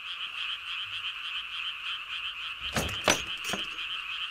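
Frogs croaking by a pond in a rural village, a dense steady chorus of high trilling calls with a few louder nearby croaks breaking in near the end.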